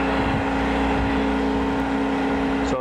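A Rush 132 drill grinder runs steadily, grinding a plug lead on a tap against the side face of its wheel, with a constant loud motor hum and whine throughout.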